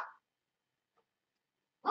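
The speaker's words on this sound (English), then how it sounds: "Quiet, dog." A dog gives two short barks, one at the very start and another at the end, with a tiny faint yip between them and silence otherwise; the barks are moderately close and no one talks.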